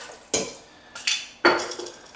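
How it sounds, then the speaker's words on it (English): Stock poured from a quart jar into a soup pot of pureed squash, heard as three close clinks and splashy bursts spaced apart, with quiet gaps between. "Now I'm going to add the remainder of my quart jar of stock."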